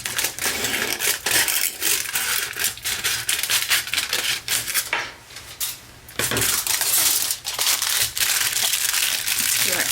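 Aluminum foil being folded over and crinkled, with loud, close crackling and crushing bursts and a brief quieter pause midway.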